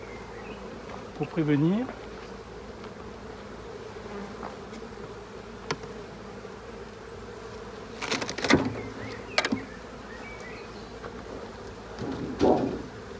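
Honeybees in a very populous hive drone in a steady, dense buzz while the hive is smoked and a Dadant super is handled. Occasional knocks and a few spoken words rise above the hum.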